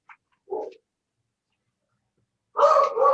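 A German Shepherd barks indoors in short bursts: a faint yip, a brief bark, then after a long silence a louder, fuller bark that runs to the end. No one speaks.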